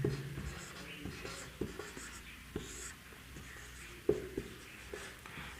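Chalk or marker taps and scratches on a classroom board during a Hindi lesson, a close, irregular series of short strokes with a few sharper knocks, under faint low speech.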